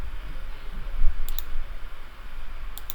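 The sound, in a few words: mouse clicks in Revit while drawing a curtain wall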